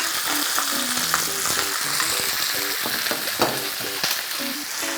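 Butter frying in a hot pan while an acqua pazza with grunt fish is cooked: a loud, steady sizzling hiss that runs for the whole stretch, with clattering stirring and utensil knocks mixed in and background music playing beneath.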